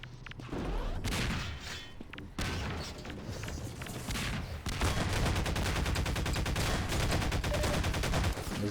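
Rapid automatic AR2 rifle fire in the video game Half-Quake, bursts of loud sharp shots with a dense continuous volley in the second half.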